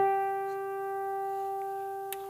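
A single guitar harmonic rung at the 12th fret of the G string, a pure bell-like tone that sustains steadily for about two seconds, alone and fairly quiet, with a faint tap near the end.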